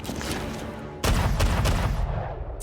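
A gunshot in the film Allegiant: a loud, sudden blast partway through, followed by a reverberating tail and a few fainter cracks, with movie background noise before it.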